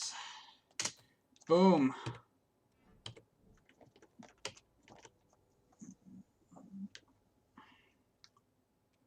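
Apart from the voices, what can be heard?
computer keyboard typing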